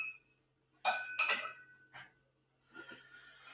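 A crystal martini glass clinks and chimes as it is picked up and handled, two or three bright close taps with short ringing tails amid quiet room sound.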